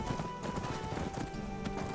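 Hooves clip-clop in a steady walking rhythm from a horse in Skyrim, close and even, with a soft whinny mixed in and ambient game sound underneath.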